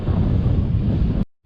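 Strong wind buffets a microphone during a bike ride, a loud, steady roar that cuts out abruptly near the end and then returns briefly.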